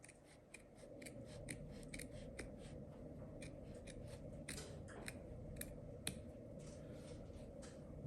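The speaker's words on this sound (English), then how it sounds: "now I'm gonna cut off that little bit of excess that was right there" Scissors cutting off excess upholstery fabric while reupholstering a broken chair, a rapid series of close, crisp snipping clicks repeating steadily throughout, quiet overall.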